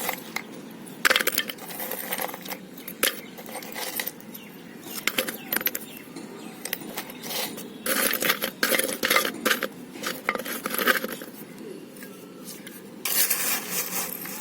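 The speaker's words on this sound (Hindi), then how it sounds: "इसके बाद मैं कुछ ये मोटे ईंट के टुकड़े हैं वो डालने वाली हूँ इस तरीके से" Coarse brick pieces tip into a plant pot for an adenium, a steady run of gritty clinking and scraping rattles with louder bursts, close and with no one speaking.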